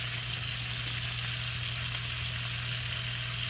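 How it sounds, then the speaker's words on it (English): Chicken wings frying in a pan with seasoning give off a continuous, even sizzle and crackle at low volume, with a steady hum beneath and no talking. "So we're just going to let that fry"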